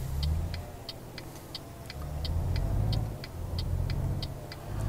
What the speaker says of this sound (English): If that truck didn't go by